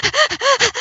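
A human voice imitating a dog's rapid, shallow panting, six quick loud breaths in a steady rhythm, close and clear.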